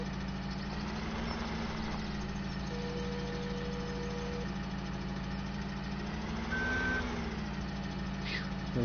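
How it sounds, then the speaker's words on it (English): Telehandler in Farming Simulator 17 with a steady droning engine idle underneath and a thin electronic reversing beep chiming intermittently, loud and continuous throughout. "So this is the telehandler"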